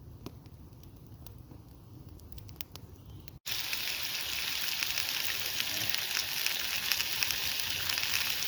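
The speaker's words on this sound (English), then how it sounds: "Got a nice bit of lamb in the pan." Lamb sizzling in a pan over a campfire in the woods gives a steady crackling hiss that jumps noticeably louder partway through and stays dense and close.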